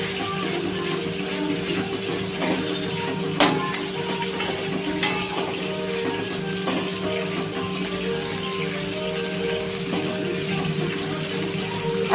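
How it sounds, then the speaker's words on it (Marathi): Chigal greens (gholchi bhaji) are stirred in a pan with crushed peanut powder, giving soft scraping and faint sizzling over a steady background hiss, with one sharp knock near the start. "कूट छानपैकी मिक्स करून घेऊया."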